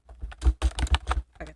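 Fast typing on a computer keyboard, a close burst of about a dozen crisp key clicks in an uneven rhythm, with no talking.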